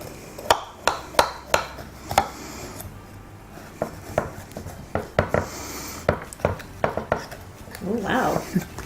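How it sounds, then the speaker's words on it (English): A knife cuts through a trench pie and serves it onto a plate, making a series of sharp clinks and scrapes against the dish at an uneven pace, close by, with brief talk near the end. "Never realised how difficult it was to actually cut a pie on camera"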